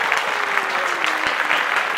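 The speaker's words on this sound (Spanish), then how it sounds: "Un aplauso para el productor." Studio crew applauding a producer on a lipstick-line beauty set, a steady bed of clapping hands holding at an even level throughout with faint voices in the background.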